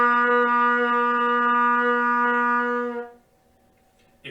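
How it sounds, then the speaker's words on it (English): A single steady trumpet C note sounds for about three seconds, close and even in a beginner's band lesson, then cuts off, leaving near silence and a brief noise at the end. "make sure your C note sounds like this."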